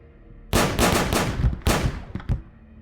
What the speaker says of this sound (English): Several shots at close range, dropping Costin and the other guardsmen.